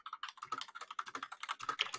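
Rapid, steady computer keyboard typing, close and fairly quiet, a continuous run of light key clicks with no voices over it.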